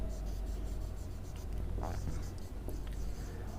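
Marker or chalk strokes scratch across a classroom board in a steady run of short scrapes, with faint room noise and murmured voice beneath, during a chemistry lesson.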